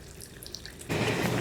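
Water flowing down a waterfall-like art piece on an outdoor college campus: scattered drips and trickles at first, then a sudden steady rush of falling water, close and fairly loud.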